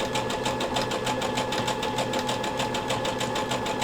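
A sewing machine stitches steadily, its needle hammering in a fast, even mechanical rhythm with a constant motor whir, close and continuous throughout.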